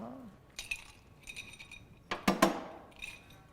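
Ice cubes drop into a cocktail glass in a home kitchen, several bright clinks and rattles in short clusters, with one louder cluster near the middle, all fairly close and quiet.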